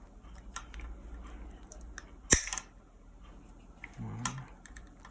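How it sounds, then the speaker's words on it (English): A sharp snip of cutters closing through a part, one crisp loud click mid-clip, with faint handling and a low knock afterward in a quiet room. "I'm going to use the cutters and cut this off"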